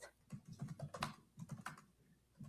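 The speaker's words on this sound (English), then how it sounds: "He's typing fast though." Rapid typing on a computer keyboard in a hearing room, a dense run of quick, soft clicks and taps at close range with a brief pause near the end.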